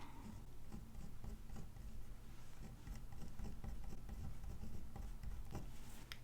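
Pen writing steadily in a Big Happy Planner paper planner, a soft continuous scratch of the tip across the pages with small taps and pauses between strokes, close and quiet, with no voices.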